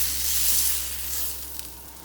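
Picanha steak sizzling in a hot pan just after being flipped, a loud, steady, close hiss and crackle that swells then eases slightly, with no talk.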